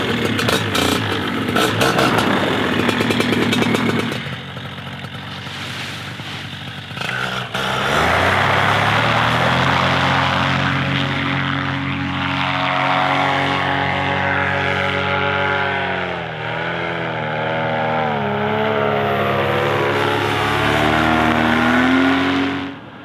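An Indian Scout motorcycle fitted with a factory R intake roars as it is ridden, its engine note revving and rising and falling through gear changes, loud and close throughout.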